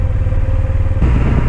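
Honda Silverwing scooter engine under way, a close, steady low drone with a rough pulsing texture, shifting slightly in tone partway through the brief stretch.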